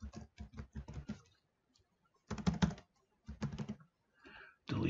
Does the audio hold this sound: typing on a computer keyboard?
yes